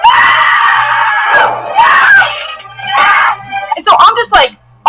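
A person imitates screaming bloody murder: loud, drawn-out shrieks close up, broken by short gasps and ending in a few sharper cries.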